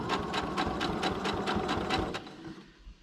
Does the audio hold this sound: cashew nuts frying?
no